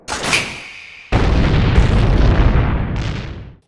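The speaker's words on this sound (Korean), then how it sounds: "그 순간 디아만티나가 설치한 폭탄이 폭발했고" A planted bomb goes off on a space station in an anime: a bright burst opens, then a massive explosion hits suddenly and roars on loudly as a broad sustained rumble for about two and a half seconds before cutting off.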